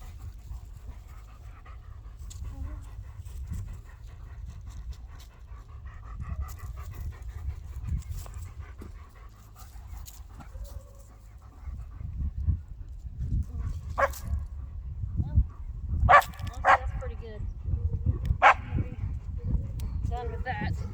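A goofy dog pants steadily and close by in a garden, with occasional short whimpers and yips toward the end, while a person talks quietly in the background.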